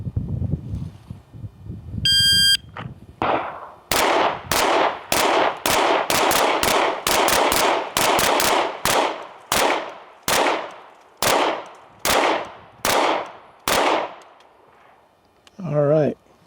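Gunshots from shooters firing at targets on a range, a string of sharp, loud reports at irregular intervals, some in quick pairs, each ringing out with a short tail, after a brief beep and a voice at the start.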